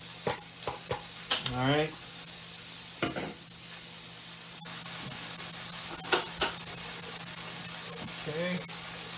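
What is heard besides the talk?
onion frying in a heated skillet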